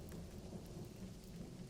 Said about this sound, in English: That's when she heard the storm.